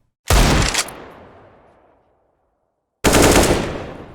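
Two loud bursts of video game gunfire close up: a rapid volley with a fading tail, a second of quiet, then another sustained burst of shots.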